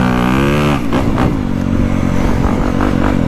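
A Honda CRF250 Works Edition 250F motocross bike revs up close, its engine tone rising steeply, then breaking into rough, fluttering, clattering bursts at high revs.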